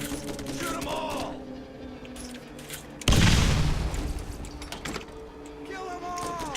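Borderlands gunfire: a burst of loud booming shots erupts midway over continuous game noise and background music, fading gradually.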